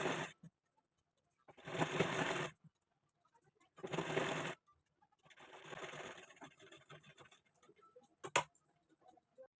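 A sewing machine stitches the placket of a kameez in bursts of a few seconds each, separated by pauses, with a softer stretch of machine noise and small clicks near the end.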